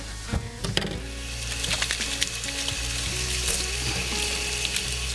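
Water running at a kitchen sink for a quick wash, with eggs frying in a pan nearby. A steady hiss and spatter of sizzling fill the clip, broken by a few sharp clinks near the start.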